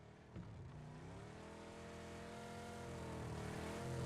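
Cars driving in a PUBG tournament match, a continuous engine drone that climbs steadily in pitch as the vehicle accelerates, fairly close and steady in level.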